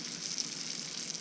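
Steak fries in a hot pan with a steady, close hiss and crackle of sizzling fat, continuous and even, with no voices over it.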